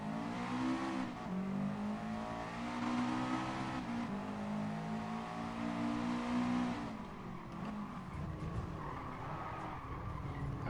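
Race cars jostle and bump on the Tsukuba circuit in Gran Turismo Sport, with engines whining and shifting pitch under heavy throttle alongside scraping tire noise in a dense, continuous roar.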